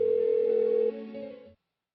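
Phone ringing tone from Persona 4 Golden, a steady electronic tone held for about a second and then a softer continuation before cutting to silence, loud and alone with no one answering.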